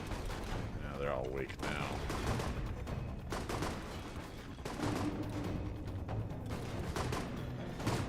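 Enemy gunfire crackles in the video game Alpha Protocol, a dense, sustained barrage that runs almost unbroken from start to end, with someone talking over it.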